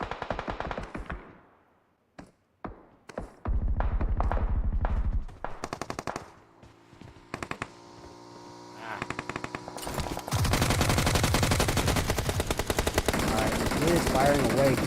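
Rapid bursts of automatic gunfire in a mobile shooter game tournament match played on an iPhone 14 Pro Max, loud and dense, with sporadic single shots and gaps, then sustained firing toward the end, under a commentator's talk.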